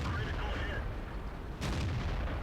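Tank guns firing in the video game World of Tanks, with E-25 tank destroyers in action, giving a dense, continuous rumble of battle noise with a sharp burst partway through.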